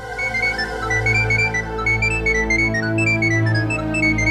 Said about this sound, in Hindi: एक्सक्यूज मी शेफाली, मैंने तुम्हें कितनी बार बोला है ऑफिस में मुझे मत फोन किया करो।